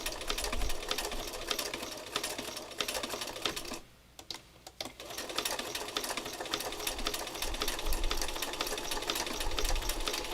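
A sewing machine stitches an applique onto fabric, a fast, steady mechanical needle chatter that pauses briefly midway and then resumes at an even pace, close and fairly quiet.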